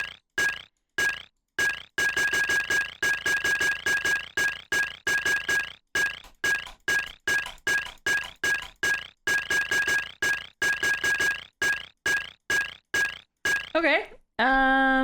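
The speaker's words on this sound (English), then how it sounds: "It's like a spoon hitting a glass" Bright, repeated glassy chimes in the Myst computer game, like a spoon tapping a glass, ringing in quick regular bursts with short gaps, ending in a warbling flourish.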